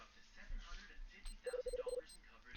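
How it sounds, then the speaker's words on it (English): A pager beeps in a quick run of about five short electronic chirps, set against a faint background of low voices. "There goes my pager again."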